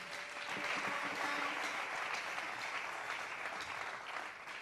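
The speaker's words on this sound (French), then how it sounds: "Est-ce que nous pouvons acclamer très fort?" A church congregation applauds steadily and loudly in a large hall, a dense, sustained wash of clapping with no clear pauses, easing slightly at the very end.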